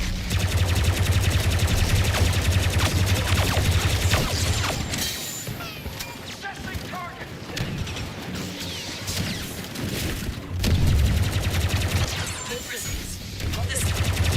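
Dense, loud bursts of rapid blaster gunfire and explosive crashes from Star Wars Battlefront II, nearly continuous, dropping off briefly in the middle before resuming, with voices talking over it.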